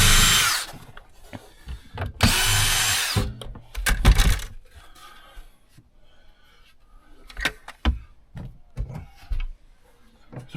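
Power drill whirring in two loud sustained bursts while unscrewing trim inside a tour bus, then quieter clicks, knocks and short tool noises scattered through the rest.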